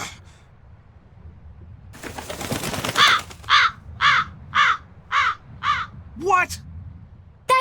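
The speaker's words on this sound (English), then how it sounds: "That crow just flew off with the coin!" A crow in the Tales of Berseria video game caws loudly and close, about seven evenly spaced harsh calls following a brief rustling flurry of wings.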